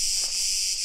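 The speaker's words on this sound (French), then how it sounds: "cigales." Cicadas in Crete shrill loudly and continuously, a dense steady buzzing drone that fills the whole moment with no pauses.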